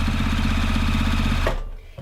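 A JUKI TL-2010Q sewing machine runs at about half speed with a lengthened stitch, sewing through four bulky layers of fleece in a steady, close mechanical whir. It stops abruptly and near silence follows.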